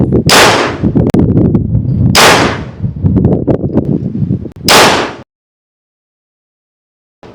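Three loud, sharp blasts from a BinTac T50 .50 caliber semi-automatic tactical airgun fired at a target, each a crack followed by rattling, ringing clatter, then silence.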